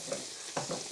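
Noodles sizzle and fry in a pan as spring onions and grated carrot are tossed in. There is a soft, steady crackle with a couple of brief stirring scrapes.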